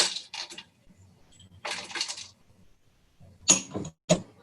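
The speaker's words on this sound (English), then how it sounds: "So I'm going to put in a 1/4 cup of raw cashews." A quarter cup of raw cashews poured into a container, coming as a few short rattling bursts of hard nuts clattering, close and fairly loud, with quiet gaps between pours.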